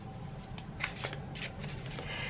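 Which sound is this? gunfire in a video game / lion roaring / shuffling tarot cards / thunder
shuffling tarot cards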